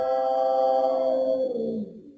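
Wilhelm scream sample set to F sharp and played from a keyboard as a sustained, reedy, moaning note about two seconds long that bends down in pitch at the tail before cutting off.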